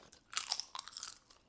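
Crisp, crunchy seaweed being bitten and chewed up close, a few loud crunches in a quick irregular burst with no talking.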